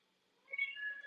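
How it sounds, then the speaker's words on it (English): Short, faint meow from a cat, a thin rising then wavering call about half a second long, slightly distant and otherwise quiet. "Oh, I heard the kitty."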